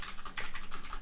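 Rapid keystrokes on a computer keyboard during a DOTA game session, a steady run of close, crisp clicks filling the whole second with no talk over them.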